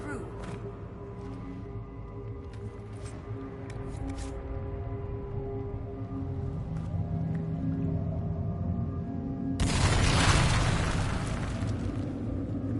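A weapon blast breaking through a magical barrier in Dragon Age Inquisition, a sudden loud burst that erupts late after a stretch of low droning ambience, then lingers as a rumbling roar.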